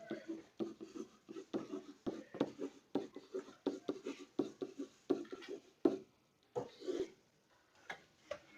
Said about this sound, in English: So I'm going to write out all of the variables.